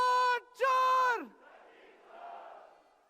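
Crowd at a Congress rally at Delhi's Ramlila Maidan chanting a slogan in two loud, drawn-out unison bursts, followed by a softer, distant murmur of the crowd.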